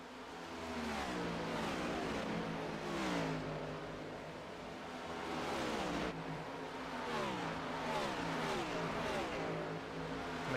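Race cars in a NewGen Cup Series race at Michigan International Speedway roar past on the oval in a steady, loud stream, engines rising and falling as they go by, with no one talking.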